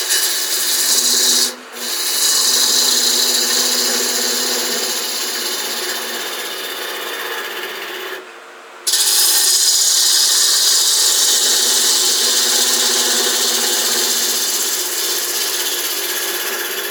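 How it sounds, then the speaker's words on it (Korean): A fingernail or finishing gouge cuts wood on a lathe while turning a three-piece bowl, giving a steady, loud, raspy hiss that cuts off briefly twice as the tool lifts away, with no talk. "이 부분을 이렇게 해서 핑거네일 가우지나 피니싱 가우지로 따내줍니다"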